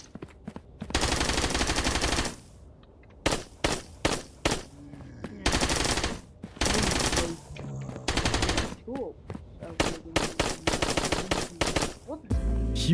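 Rapid AR bursts and pistol shots ring out in a self-made shooter video game, with loud strings of automatic fire broken by short gaps and single sharp cracks across the whole stretch.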